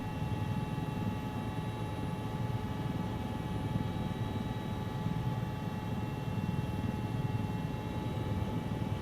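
Helicopter in the Squad video game descending toward a landing pad, a steady droning rotor and engine rumble with a faint whine, continuous and fairly loud throughout with no talking.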